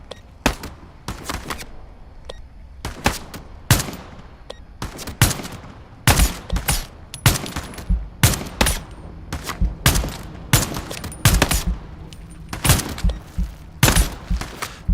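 Gunfire from long guns with iron sights in the VR shooter game Into the Radius 2: a dense run of sharp, loud shots in irregular bursts and single rounds, close and unbroken, with no talking.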